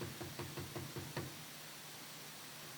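Knocking on a door, a quick run of about seven faint knocks in a steady rhythm against a hissy background, then only the low hiss remains.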